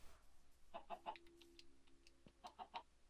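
Several short chicken clucks from a Minecraft video game, in two bursts of about three clucks each, faint under steady background noise.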